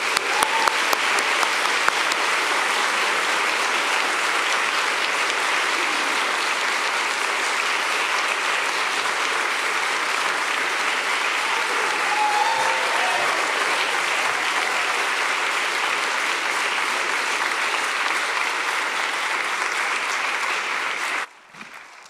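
An audience at a books-and-authors event bursts into steady, loud applause for two speakers taking the stage. The dense clapping is sustained for about twenty seconds before cutting off abruptly.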